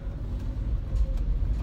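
A truck idles in traffic with a low, steady engine rumble that stays close and even, with no talk over it.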